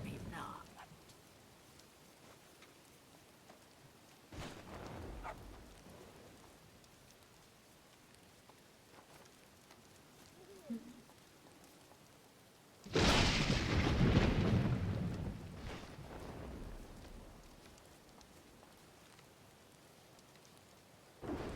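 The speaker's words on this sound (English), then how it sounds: "It was a long stormy night." A stormy night with steady rain pattering throughout and a loud rolling thunderclap in the middle, plus fainter rumbles earlier, in a cozy Sims-style game setting.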